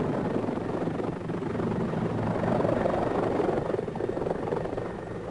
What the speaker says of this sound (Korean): 예거 대원들은 이상적인 침투용 항공기로서 헬리콥터를 사용합니다